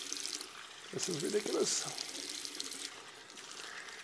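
Tap water runs into a sink while soap is rinsed out of a beard by hand, a steady close splashing stream under a man's brief spoken remark.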